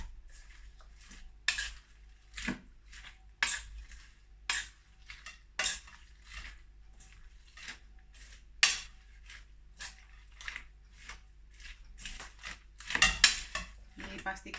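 Utensil scraping and clanking against a pan while bihun goreng, bakwan or tempe is stirred in a kitchen, irregular metallic knocks and scrapes repeating over a faint background hum.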